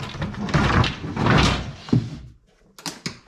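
A wooden drawer holding rags slides and thuds open and shut in a timber-strewn workshop, a few muffled knocks followed by a short rattle, close and fairly loud.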